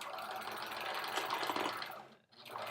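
An old sewing machine running close by, its fast steady mechanical whir rising a little, then cutting off briefly near the end before starting again.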